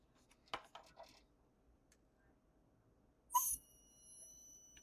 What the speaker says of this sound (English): you could hear it that time when I touched the plastic